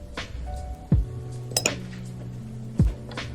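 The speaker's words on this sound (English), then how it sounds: "So I'm just gonna make a yogurt bowl." A spoon scrapes and clinks against a bowl while a yogurt bowl is being put together, with a few sharp knocks and light rattles at irregular moments, close and moderately loud, and no voices.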